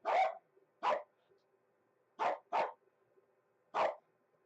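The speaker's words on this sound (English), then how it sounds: "You can hear my dogs. The dogs are upset with me." Several dogs bark in short, sharp bursts, five barks spaced irregularly across a quiet room with a faint hum underneath, fairly close and loud.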